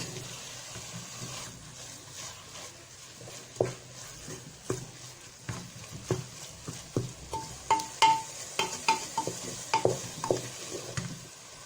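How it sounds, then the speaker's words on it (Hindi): Grated carrots frying in ghee for gajar halwa, a quiet sizzle under a run of stirring scrapes that grow into a steady rhythmic series of clinks and scrapes toward the end. "तो इस घी में इसको फ्राई करेंगे।"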